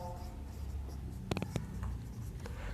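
A pen scratches briefly across paper while a maths solution in matrix form is written out, a short burst of close strokes over a low room hum.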